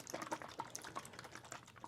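A bottle of coconut fusion juice shaken by hand, liquid sloshing and splashing continuously in quick, busy bursts, close and fairly quiet, with no talking.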